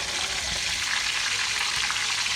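Salted fish sizzles and crackles steadily in hot oil in a pan, close and loud, with faint scraping as the pieces are turned.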